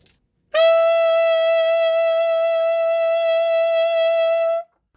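Saxophone sounding a sustained high F sharp fingered with palm key F, side E and the high F sharp key, one steady bright, edgy note held about four seconds, close and loud, alone.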